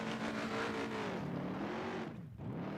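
A race car engine blips its throttle in quick rhythmic bursts, the revs rising and falling in a wavering pitch, heard from some distance at low level, with one deeper dip near the end.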